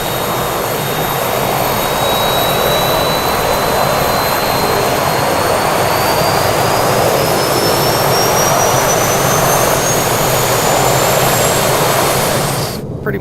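A King Air B200's turboprop engines run at low idle just after start, a loud, steady whine and roar heard close up with a rising high tone and no talk.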